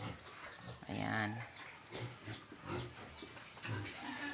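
Piglets on a rural farm grunt and squeal in a busy jumble of close animal calls, with people talking over them throughout.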